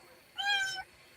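A single cat meows once from a room at the back of a home, a clear drawn-out call standing alone over quiet background.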